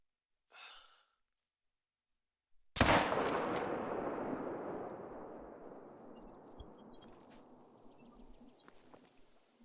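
A single rifle shot fired at an animal in theHunter: Call of the Wild, a sharp loud crack followed by a long rolling echo that fades over several seconds, preceded by a soft breath.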